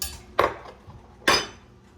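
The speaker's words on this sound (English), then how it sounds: "I'm gonna grab a spoon." A spoon handled in a kitchen, two sharp clinks against dishware about a second apart, close and crisp with quiet in between.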